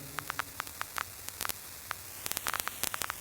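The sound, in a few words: white noise through a vinyl distortion effect in Ableton Live 11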